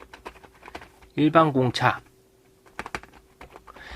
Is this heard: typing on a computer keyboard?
yes